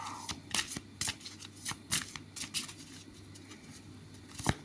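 Tarot cards being shuffled by hand, giving quick papery riffles and soft slaps in irregular bursts. The sound is close and fairly quiet, with no voice over it.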